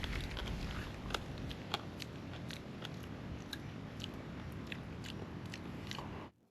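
Raw mangrove shellfish being chewed close to the mouth, a steady run of wet, gritty crunches and bites that goes on for several seconds before stopping abruptly.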